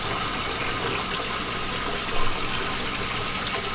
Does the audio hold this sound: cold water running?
yes